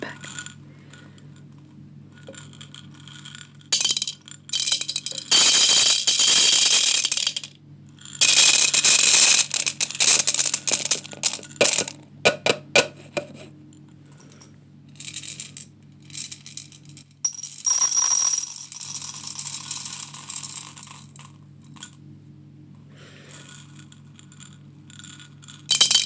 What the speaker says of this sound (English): I'm gonna put this long, skinny amount of coffee into this short, fat coffee cup.